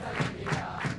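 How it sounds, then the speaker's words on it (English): A raucous crowd cheers at an Eton Fives game in Kuala Kangsar, loud massed shouting that swells in three quick surges within about a second. "I feel sure that Eton boys would struggle to match the raucous enthusiasm of this crowd."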